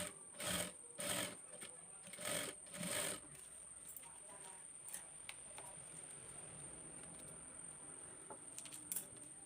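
Domestic sewing machine stitching along the edge of a party-wear frock, heard as four short loud bursts of rapid mechanical whirring in the first few seconds, then quieter handling noise and faint ticks.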